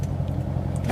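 A 2016 Corvette Z51 3LT on the move gives a steady, close, fairly loud low engine drone with faint road noise, no voices over it.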